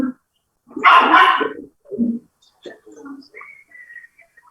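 An abandoned, flea-covered dog gives a loud, rough bark close by, followed by a couple of shorter yelps, with quieter voices and faint background sounds between them.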